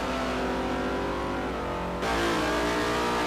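Front-mounted Panoz V8 in an LMP1 prototype race car revs loudly and continuously, a dense steady engine drone that steps up in intensity partway through, heard alone without talk.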